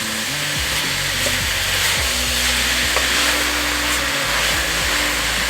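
Chunky meat for spaghetti sauce sizzles steadily in a hot pan, a loud constant frying hiss broken by occasional scrapes and stirs.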